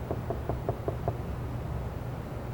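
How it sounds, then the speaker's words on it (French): Six even knocks on a door, a quick steady series of muffled thumps in the first second, followed by quiet room tone. "quelqu'un frappe à la porte"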